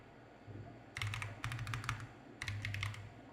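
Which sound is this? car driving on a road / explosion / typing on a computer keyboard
typing on a computer keyboard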